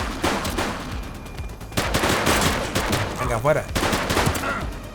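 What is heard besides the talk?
gunfire from shooting in The Precinct video game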